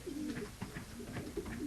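A medium-sized racing pigeon coos in a soft, repeated rhythm of low throaty calls, nearby but fairly quiet, with no talking.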